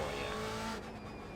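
Tires slide and the engine howls steadily on a BMW M8 GTE at the Nurburgring in a racing video game, a continuous close roar that dips slightly partway through.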